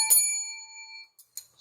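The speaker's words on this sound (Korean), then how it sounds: "종소리 울려라" One bright bell strike that rings out and decays over about a second, followed by a couple of faint clicks.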